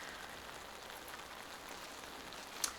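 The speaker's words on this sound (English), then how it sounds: "The rain is back." Steady rain patters across an outdoor disc golf course, a soft even hiss of drops on foliage and ground, faint and continuous with one brief sharper tick near the end.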